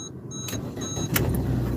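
A car engine turning over and catching, a short low rumble rising into a steady idle, close and fairly loud, with a few brief clicks and no talking.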